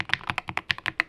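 Typing on an inexpensive Amazon computer keyboard gives a quick, close run of about ten crisp keystroke clacks in just over a second.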